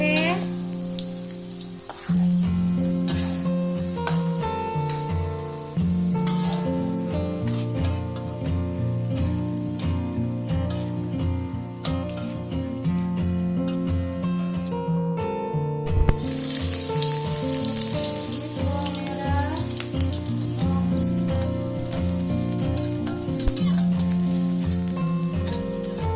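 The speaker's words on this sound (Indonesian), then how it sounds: "Goreng tempe." Tempeh frying in a pan of hot oil, a loud continuous sizzle and crackle that runs steadily throughout with occasional stirring, no voices.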